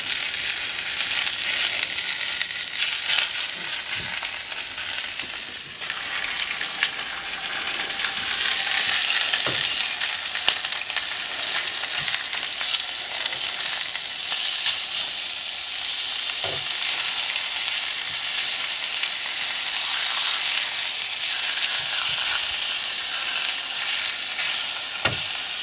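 Belly pork frying on a shovel, a loud, continuous crackling sizzle of spitting fat with occasional sharper pops throughout.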